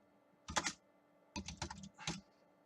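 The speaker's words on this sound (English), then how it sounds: "as you can see, I'm just typing in words" Three short bursts of clicking keystrokes on a computer keyboard, close and fairly quiet, with pauses between flurries and no voices.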